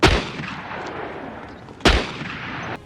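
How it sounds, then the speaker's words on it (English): Two gunshots fired at a man's head in a Van Damme action movie scene: loud, booming blasts spaced nearly two seconds apart, each followed by a long fading echo. "This guy then tries to finish Van Damme off by shooting him in the head twice"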